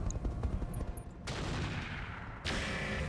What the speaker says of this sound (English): They're still trying to shoot down the Cascatel